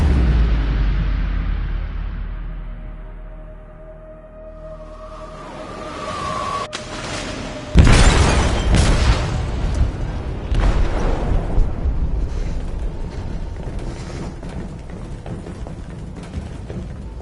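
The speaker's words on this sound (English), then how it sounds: "They detonated an explosive in the hold." An explosive detonates in a ship's hold in the video game Detroit: Become Human: a loud, close boom erupts after a quieter rumbling lead-in, followed by sustained crashing and roaring debris noise that slowly settles.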